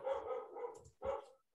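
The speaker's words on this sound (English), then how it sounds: "whose dog is barking?" A dog barks in two bursts, the second after a brief pause, heard faintly at a slight distance with no talking over it.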